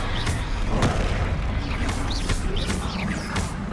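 Bombarda spell blasts go off during combat in Hogwarts Legacy, a string of loud booming explosions with sharp cracks and whooshing bursts over a dense, busy background.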